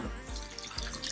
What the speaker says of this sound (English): you are gonna pour the contents of your first bowl